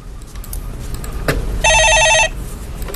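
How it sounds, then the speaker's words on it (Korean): A telephone rings in a broadcast studio with one short burst of electronic trills, loud and close, standing out over a low background hum, with no voices during the ring. "예, 전화 받아보겠습니다."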